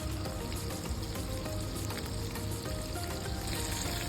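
Meatballs pan frying give off a dense, steady sizzle and crackle that stays fairly quiet, with no voices over it.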